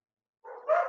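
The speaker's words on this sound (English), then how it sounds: "excuse me about the dogs" A dog lets out a short, close bark and a second, louder bark follows right after it, with silence before.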